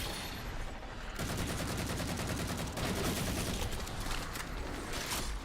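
Rapid repeated shots from a Bolt Shot sidearm in Halo 4 rattle on in quick succession for several seconds, dense and steady with fainter bursts mixed in, fairly quiet overall.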